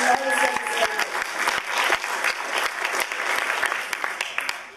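An audience bursts into applause at a nomination acceptance speech, a dense, steady wash of many hands clapping, with sharp individual claps standing out throughout.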